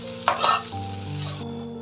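Okra stir-fry (vendakkai poriyal) is stirred in a hot pan: a few quick scraping strokes over a steady oily sizzle, close and clear, cutting off abruptly at the end.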